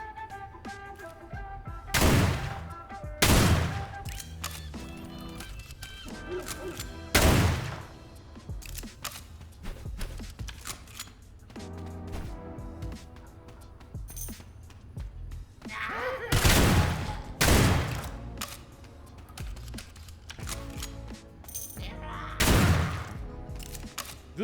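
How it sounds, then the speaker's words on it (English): Railgun fire in the video game Sulfur: loud, sharp broadband blasts in irregular clusters, some shots close together and others spaced seconds apart, over a busy game soundscape. "This gun is silly. It's like actually silly with railgun on it."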